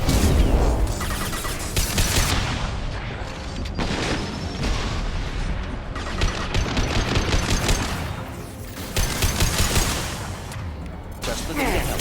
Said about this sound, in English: Let's try my heavy weapon on this guy